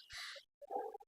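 A parakeet lets out two short, harsh squawks close by, the first a bright screech and the second a rougher, choppier call, with no voices.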